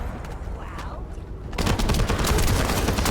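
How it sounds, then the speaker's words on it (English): Gunfire in the co-op shooter The First Descendant: a quieter stretch of scattered shots, then a sudden loud burst of rapid, continuous automatic fire that keeps going to the end. "we are kind of shooting a random person who happens to be standing right next to us"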